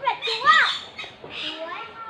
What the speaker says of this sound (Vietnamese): đây là những con vẹt chúa